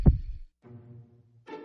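A heartbeat sound effect opens with one deep, soft thump, followed by sustained tonal notes in a quiet, sparse setting.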